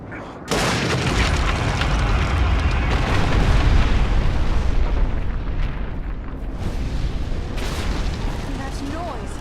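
A huge explosion in the fantasy action game The War in the North sets off a sudden loud blast, then a long rumbling roar of collapsing debris that holds for several seconds before thinning out.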